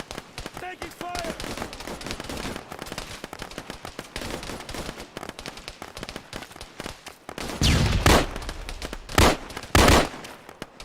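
Heavy gunfire in the military shooter game Arma 3 during a fire-and-manoeuvre training session, with bursts and single shots crackling under steady radio chatter, then several loud close volleys near the end.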